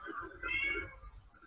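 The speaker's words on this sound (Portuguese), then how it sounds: "antes era um cachorrinho e agora tem um gatinho, olha só" A cat meows close by, giving a single drawn-out, mid-pitched cry that swells and fades within about a second.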